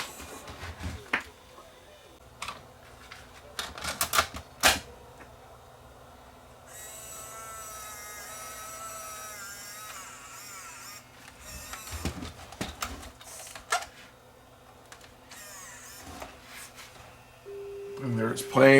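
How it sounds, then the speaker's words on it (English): A JVC VHS-C camcorder loads a tape for playback: mechanical clicks and clunks, then a steady whirring motor whine with a rising tonal hum, followed by further clicks and a soft drive hum, heard up close. "Put it into playback mode to see if it'll play this tape."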